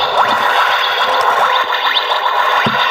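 Electronic Doctor Who TARDIS toy playing its sound effects: continuous warbling, echoing electronic tones with rising sweeps and swirling modulation, loud and steady for the whole stretch, no talking.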